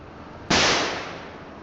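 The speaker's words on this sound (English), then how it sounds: "Another bang. Another shot I fired across the bow." A single sharp gunshot in the Farm Sim 25 video game cracks out after a moment of quiet room tone, then trails off in a short fading tail.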